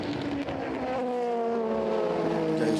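A race car at night during the 24 Hours of Le Mans runs through the Forest Esses with a steady droning engine note that slowly falls in pitch, heard at a distance under a continuous wash of track noise.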